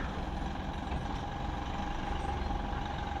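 A 2025 Mahindra Bolero Neo SUV pulls up a slope on engine torque, giving a steady, dense engine drone that stays loud and even with no break in it.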